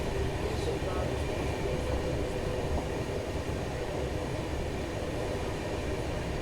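Indian express mail train running between Bengaluru and Chennai, slowing on the approach to Bangarapet, gives a steady dense rumble of wheels and carriage noise, loud and continuous throughout.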